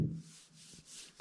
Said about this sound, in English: When I rub it with the back of my hand, you can hear all that.